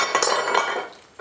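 A metal pan clinks and scrapes on a kitchen counter as it is handled, a short cluster of bright metallic knocks up close.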